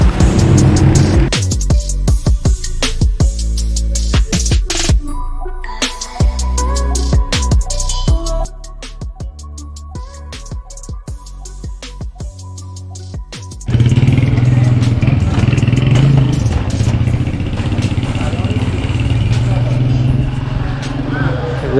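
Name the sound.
heavy street traffic in Tehran, cars and motorcycles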